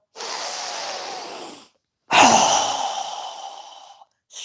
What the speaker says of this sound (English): we're going to exhale with a strong, fast breath through our mouth